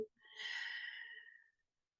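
A single long exhale during a guided meditation, soft and breathy, swelling over about a second and a half before fading to silence.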